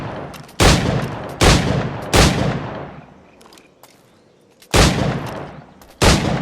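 Heavy booming shots from a Puckle gun in the video game Assassin's Creed IV: Black Flag, five loud blasts at irregular intervals, each with a long rumbling decay.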